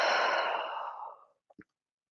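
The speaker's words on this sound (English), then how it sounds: "Together we breathe in, and together we breathe out." A long, loud, breathy group exhale during a gentle mindfulness practice, fading over about a second, followed by two faint short soft sounds.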